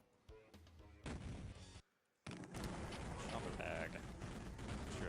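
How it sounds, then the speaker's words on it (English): Pipe bomb blasts in Duke Nukem 3D, heavy booming explosions in close succession with a short gap of silence between them, loud and alone with no talk. "You just throw a pipe bomb through the wall right there, blow it up."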